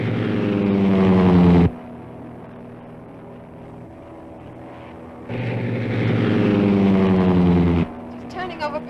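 A vintage propeller airplane engine roars loudly at high throttle, cuts to a lower drone, then surges back up to full power before dropping again, a steady droning hum with no speech over it.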